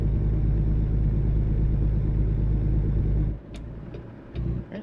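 Truck engine in American Truck Simulator, a loud, steady low rumble that suddenly drops away as the truck slows, leaving a quieter idle with faint clicks and a brief swell near the end.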